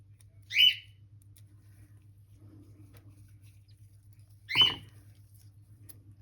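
Mabel, a pet bird, gives two short, sharp squawks a few seconds apart, loud and close against a quiet room with a low steady hum.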